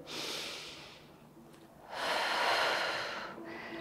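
Deep breaths during a postpartum Pilates stretch: a long airy inhale, a pause, then a fuller, louder exhale and the start of another breath, close and unvoiced.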